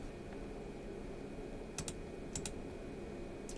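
Someone types on a borrowed computer keyboard, with sparse, crisp key clicks that come in a couple of quick pairs over a steady hiss of background noise. No voices are heard.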